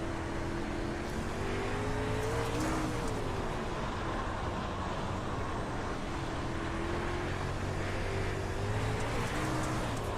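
A dirt race car in a racing sim drives hard into a corner on slick tires, its engine droning steadily and shifting pitch as it works through the turn, loud and continuous with no talk.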